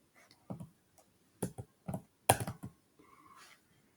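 Code is typed on a computer keyboard as a quiet, close run of irregular key clicks, several in quick clusters, with a faint tone in the background near the end.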